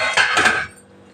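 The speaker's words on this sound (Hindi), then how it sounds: "तो ये कढ़ाई रख दिए हैं गरम होने के लिए।" A metal kadhai set down on the stove to heat, a short bright metallic clank and ring that quickly fades, close and alone.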